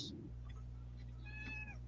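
A cat gives a short, faint meow toward the end, heard over a steady electrical hum with a brief noise at the start.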